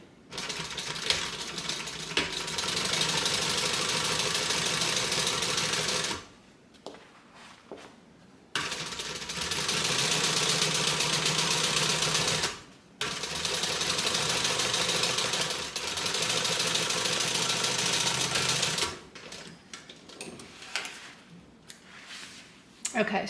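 A sewing machine stitches through a vinyl bag in long, fast runs with a steady mechanical chatter, broken by short pauses between passes.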